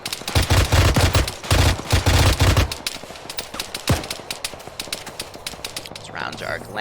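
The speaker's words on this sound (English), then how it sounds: "I'm just kind of having this guy try to suppress across the way." Suppressing gunfire in Arma 3, rapid bursts of automatic fire in a quick rhythm that give way to scattered distant shots and clatter, with a voice talking over it.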